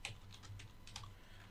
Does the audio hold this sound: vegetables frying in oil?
no